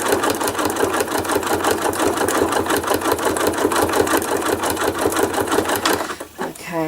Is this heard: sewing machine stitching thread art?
yes